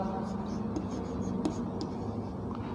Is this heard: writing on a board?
yes